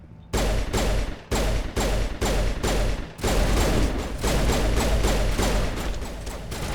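Rapid gunfire from Mass Effect: Legendary Edition, loud and close. It opens with a string of separate heavy shots, then runs into a dense continuous burst of fire.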